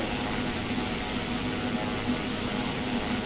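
A steady, even drone of a Pilatus PC-12 turboprop cruising in X-Plane 12, a constant engine and airflow roar with a faint high whine, continuous and unchanging throughout.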